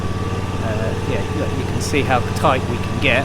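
A Husqvarna R316 TSX AWD riding lawnmower engine runs steadily at close range, a constant droning hum beneath someone talking throughout.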